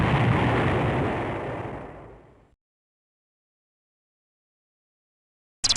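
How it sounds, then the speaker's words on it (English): Archival footage of the first atomic bomb test at Alamogordo, New Mexico (Manhattan Project): a loud, sustained roaring blast rumble that fades away over about two seconds, then silence before a short burst at the very end. "That's a very big explosion"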